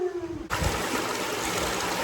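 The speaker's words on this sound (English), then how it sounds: "there's a lot of water going through here" Water flows hard through a large culvert, a dense, close rush of splashing and trickling that begins suddenly after a brief quieter moment and then holds steady and loud.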